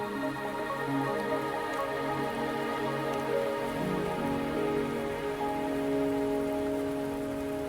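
Steady rain falling in the Wuthering Waves video game, a dense continuous patter on surfaces alongside a sustained tonal musical drone, with no voices.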